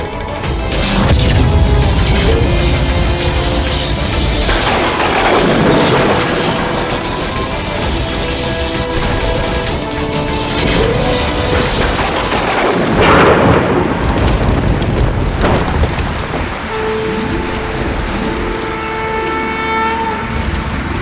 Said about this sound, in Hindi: इस ऋतु में वर्षा?